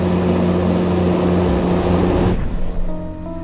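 A Grumman Mallard propeller aircraft drones loudly with steady tonal hum, then the sound abruptly dulls partway through as the engine tone continues more muffled.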